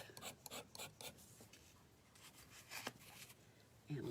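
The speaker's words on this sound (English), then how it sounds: "Scrape that off." A stick of soft pastel, a deep purple or navy shade, is scraped across a surface in repeated short, dry rasping strokes. The sound is faint and close, with brief pauses between strokes.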